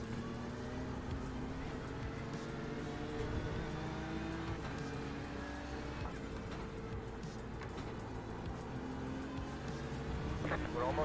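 A BMW GT3 race car in a racing video game on a qualifying lap at Winton, its engine droning steadily with shifting pitch throughout, fairly quiet and continuous.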